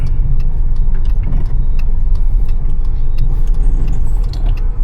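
A car rolls along a road, steady engine and tyre rumble dominating throughout at close, loud level, with small rattles and clicks over the continuous drone.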